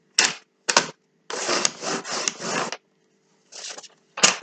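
Tool scoring fold lines on paper squares for scrapbooking boxes rasps in short, close strokes, several quick scrapes then longer continuous runs with brief pauses between.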